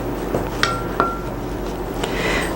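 Light metallic clinks and taps of a utensil against a bowl while salt is mixed into vegan pie crust dough, a few sparse strikes over low room noise.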